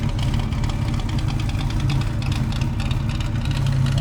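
A 1955 Chevy gasser that sat for 55 years runs at a steady, rough idle, its deep rumbling engine loud and close with a faint knocking texture and no pauses.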